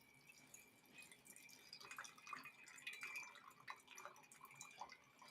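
Wine poured slowly into a glass, a faint, thin trickle with small drips and splashes running steadily throughout, quiet and close.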